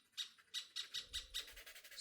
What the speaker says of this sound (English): Crazy bird at late night.